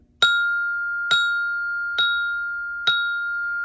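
Mallets with rebound strike F notes on a bell set, four bright ringing tones evenly spaced about a second apart. Each rings out clearly and decays alone in a quiet room.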